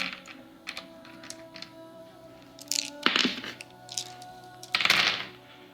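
Dice clatter and tumble onto a tabletop during goblin wounding rolls in a Lord of the Rings battle game, a few sharp bursts of rattling amid scattered light clicks and thunks, no talk.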